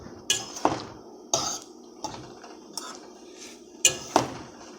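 A spoon or spatula scrapes and knocks against a pan while rice is stirred for shrimp fried rice, with sharp metallic clinks arriving irregularly, several close taps over a few seconds against a quiet background.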